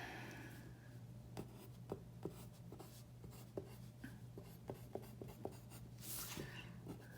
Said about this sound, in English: we're going to draw a dashed line